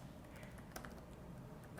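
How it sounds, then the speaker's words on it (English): Someone types a full name on a computer keyboard, a quick irregular run of light clicky keystrokes close by over a steady background hiss, with no talk. "I'll again type my full name"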